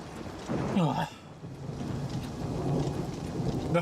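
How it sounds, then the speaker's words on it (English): Thunder rumbles over steady rain in a video game, a loud clap rolling early on and then fading into continuous rainfall, with a voice speaking over it. "The thunder clapped."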